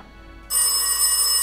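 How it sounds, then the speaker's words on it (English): A phone starts ringing in the video game The Darkside Detective, a loud bright electronic ring that bursts in suddenly after near-silence and keeps sounding steadily, with no voices. "A phone."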